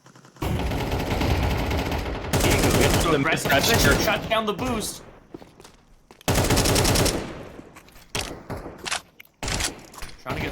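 Gunfire in a Counter-Strike match arrives in dense rapid bursts, with loud rattling volleys separated by short gaps, under a commentator's voice.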